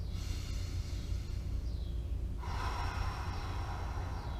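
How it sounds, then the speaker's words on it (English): Deep, expansive breaths drawn in through the nose as part of a couch stretch routine, a long steady airy inhale that builds and then shifts in tone partway through, close and alone with no talking. "In through the nose, very deep, expansive breaths, getting low into the abdomen, expanding out and then up like so."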